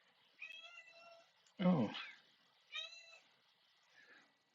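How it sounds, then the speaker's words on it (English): A house cat meows twice, each a clear drawn-out cry close to the microphone, and a person's short exclamation comes between them. "my cat has come"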